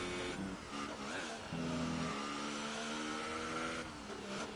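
A Ferrari Formula 1 car engine in F1 2018 screams at high revs through a corner at Austria, its pitch dipping and climbing as the car slides and twitches, loud and close with no talking.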